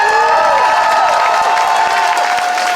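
Crowd at an outdoor post-election rally cheering and whooping steadily, a loud, dense wash of voices with clapping mixed in, sustained without a break.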